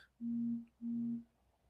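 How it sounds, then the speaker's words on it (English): Two steady low buzzing pulses, each about half a second, from a person humming a sound like a phone vibrating very close to the mic, quiet room otherwise. "It sounded like a phone vibration"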